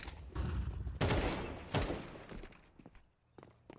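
Rapid gunfire in the video game Counter-Strike 2 during a competitive match, with bursts of loud sharp shots followed by scattered quieter cracks and thuds.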